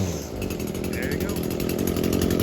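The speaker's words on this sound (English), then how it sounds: "That's how you start a weed eater." A small ECHO weed eater engine runs steadily at high speed nearby, a constant buzzing drone with someone talking over it.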